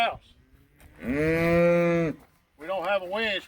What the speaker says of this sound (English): Get this old cow out of the way